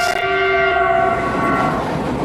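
China-Europe Railway Express freight train passing loudly and close, a sustained horn blast with strong tonal harmonics fading into rolling track rumble.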